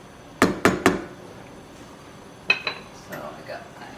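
Metal lid set onto a pot of elderberry syrup on the stove: three quick sharp clanks, then two lighter clinks and softer knocks a couple of seconds later, close by.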